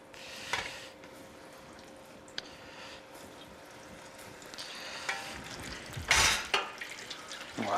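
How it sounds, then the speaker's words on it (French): Cantal cheese fries crackle and sizzle in hot oil, a steady low frying hiss with scattered pops and a sharper burst of spattering near the end. "on va frire les frites de Cantal"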